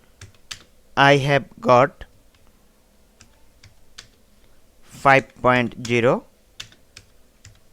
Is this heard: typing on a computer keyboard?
yes